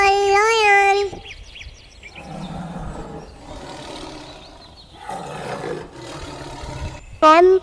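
A lion roars in a children's alphabet song. A loud tonal roar opens and closes the sound, with rough growling roars between them, prominent and close.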